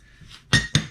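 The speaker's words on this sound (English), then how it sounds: "Here's the metal plates that you put in an oven that cook for like" Metal oven plates from a vintage toy plastic-goop maker being handled, two sharp bright metallic clinks in quick succession, close and alone after a faint scrape.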